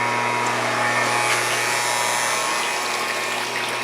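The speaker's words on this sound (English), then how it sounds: "As long as the pump is pushing the water around" Hot tub circulation pump pushing water around on a freezing day, a close, continuous electric hum with a steady watery rush that stays level from start to finish.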